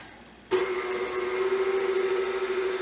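An electric hand mixer starts abruptly and whirs steadily, beating soft unsalted butter with sugar in a bowl, a close, even motor whine with no talking.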